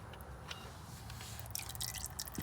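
Oil drains from the rear differential of a Polaris RZR 800 with a worn drain-plug O-ring, giving faint, irregular drips and soft trickling close by in an otherwise quiet space.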